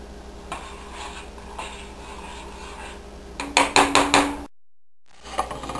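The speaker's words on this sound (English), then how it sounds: "I flip them as many times as it takes until they're done." Grilled cheese sandwiches flipped in a pan with a spatula: a quick cluster of four or five clattering scrapes and taps on the metal, over a steady background hiss of frying, then a brief drop to silence.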